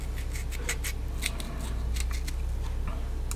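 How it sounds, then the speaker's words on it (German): A knife halves tomatoes and cuts out their cores for a Turkish aubergine salad, making a series of soft, crisp slicing and scraping strokes over a low steady background hum. "Die Tomaten tun wir einfach halbieren und schneiden hier den Strunk raus."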